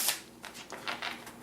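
A deck of blessing cards for the Pathfinder Adventure Card Game is shuffled close up, several quick papery riffles and slides in a short, quiet burst.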